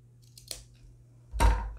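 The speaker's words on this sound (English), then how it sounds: "you just want to make a teeny tiny snip, just so that you know where your center is" Scissors make a tiny snip in fabric while sewing a car trash can: a faint small cut followed by a louder, sharper snip with a soft thump, close by and quiet overall.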